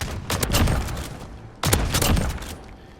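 Two loud R9-0 shotgun blasts from Modern Warfare, each a sharp broadband boom followed by a short decaying tail, spaced about a second apart.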